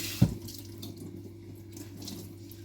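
A tap runs steadily, rinsing cleaning product off a surface, with a brief louder splash near the start and then an even, moderately quiet flow.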